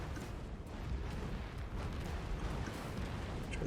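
Sticky bomb blasts in Risk of Rain 2 rumble as a dense, continuous run of booming explosions, loud and close, with no talking over them.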